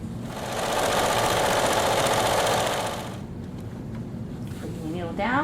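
Sewing machine running steadily while stitching the pocket of an atikłuq, a loud dense mechanical whir for about three seconds that drops to a quieter hum, with a voice coming in near the end.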